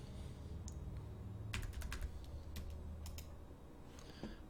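Computer keyboard keys being pressed while working in Maya 2019 3D modeling software: a quick cluster of crisp, close clicks in the middle, with a few scattered taps later over a low room hum.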